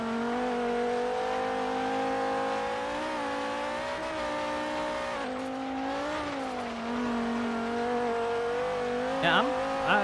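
A 2014 Terradyne Gurkha LAPV armored truck in Forza Horizon 3 climbs uphill with its back end sliding, its engine droning steadily and rising and falling in pitch under a sustained whine, with a brief tire chirp near the end.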